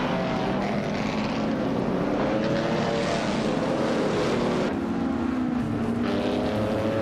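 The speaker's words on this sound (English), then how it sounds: "Amy is driving the 1957 Curtiss Craft 500B, currently in 8th place" A 1957 Curtiss Craft 500B racing engine in a video game drones steadily and loudly throughout, its pitch sliding up and down in long sweeps with no talk over it.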